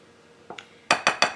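Caraway seeds and other loose tea ingredients being stirred together in a bowl, giving four sharp, evenly spaced clinks of a utensil against the dish after a couple of softer taps, close and fairly loud.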